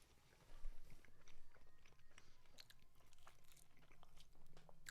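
Close, crunchy bites and wet chewing of pizza topped with garlic spread, repeated in an irregular rhythm near the mic, with soft low background hum and no talk.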